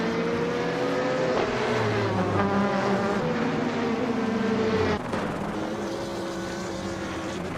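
Race car engines roar continuously in a video game race, several rising and falling whines layered over one another, loud and close, with an abrupt shift near the end to a slightly quieter engine drone.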